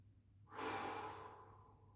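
A single deep, slow breath during a Pilates stretch with an exercise band: an audible inhale-exhale swell that rises quickly and fades gradually, close and soft, with no talking.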